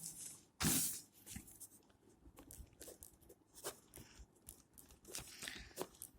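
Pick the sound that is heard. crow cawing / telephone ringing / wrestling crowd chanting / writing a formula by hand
writing a formula by hand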